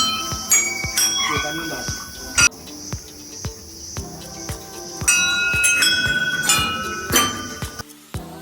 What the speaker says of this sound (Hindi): मंदिर में चारों ओर रास्तों में घंटियां लगी थी, जिन्हें हम बजाते हुए मंदिर तक पहुँचे।